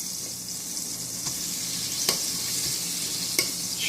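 A fork chops and stirs butter melting in a hot pot on a stove, with a steady sizzle and a few sharp clinks of metal against the pot.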